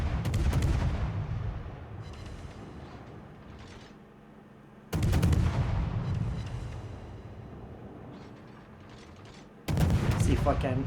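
Heavy naval guns fire salvos in a World of Warships battle: three loud booming bursts roughly five seconds apart, each trailing off into a long rumbling decay.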